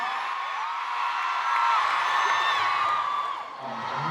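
A festival crowd in Paris at a K-pop show screams and cheers, a dense, sustained roar of high-pitched shrieks and whoops that swells midway and eases slightly near the end.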